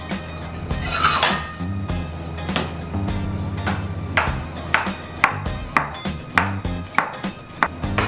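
Shallots are sliced thinly with a knife for sambal bawang, the blade tapping a board in steady, evenly spaced strokes that grow more regular toward the end, over a bed of sustained tonal background sound.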